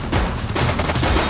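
Dense gunfire in the police video game The Precinct, a loud continuous volley of overlapping shots filling the whole short moment with no talk.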